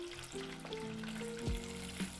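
Fish goujons sizzle in a frying pan as they rest after flipping, a steady crackling fry with a few clinks and a brief scrape, no voices.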